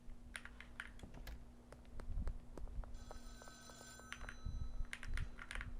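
Phone ringing in the video game Schedule 1, a repeating electronic ring tone laid over keyboard typing and clicks, moderately loud, with no talk.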